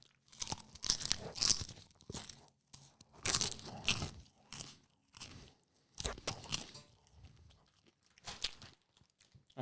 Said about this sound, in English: You're munching.